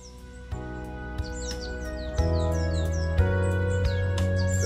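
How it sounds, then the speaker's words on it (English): Soft birdsong from a video game, repeated short chirps and tweets over a steady tonal ambient bed, clear and moderately near, with no talk. "The soft chirping of birds gradually awakened me from my slumber."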